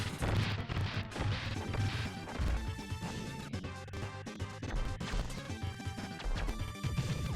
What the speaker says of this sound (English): just keep smashing, attack, and walk around